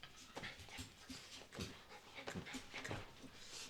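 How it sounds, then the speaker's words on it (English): A pet dog whimpers and pants close by while seeking attention, with soft, uneven breathy pants and small whines in a steady run. "Sorry, my dog needs attention right now."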